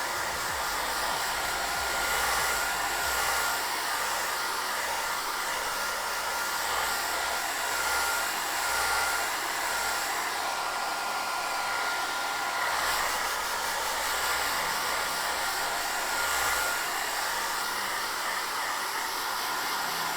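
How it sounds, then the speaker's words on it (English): A hair dryer on a cool setting blows steadily over a wet watercolor painting, a loud, continuous whooshing roar that holds nearly unchanged for the whole stretch with no talking. "I'm just gonna blow dry some of this to expedite the process"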